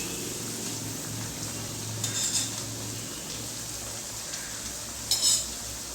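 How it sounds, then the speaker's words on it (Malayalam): Onion vadas deep-frying in hot oil, giving a steady broadband sizzle throughout, with a couple of brief metallic clinks and stirring sounds near the pan. "അതുപോലെ തന്നെ നമുക്ക് ഈ ഉള്ളിവട ഫ്രൈ ചെയ്തെടുക്കാം."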